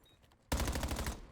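Rapid automatic gunfire erupts abruptly in a competitive Call of Duty match, a loud dense burst of shots after a quiet moment.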